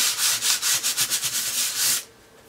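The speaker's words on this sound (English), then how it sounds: "just going to sand off a bunch of the edges on the design" Sandpaper rubs back and forth over the edges of a dry-embossed cardstock design, about a dozen quick rhythmic strokes, close and loud, then stopping abruptly near the end.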